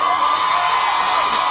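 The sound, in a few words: crowd cheering at a soccer match after a goal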